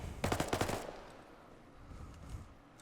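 A rapid burst of heavy machine-gun fire from a technical in the military shooter Arma 3, roughly a dozen sharp, close shots in quick succession, followed by quieter distant pops and battlefield ambience.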